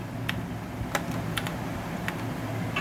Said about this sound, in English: Now we are writing some table data over there.